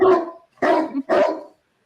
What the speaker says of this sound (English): Hit that dog soundbite real quick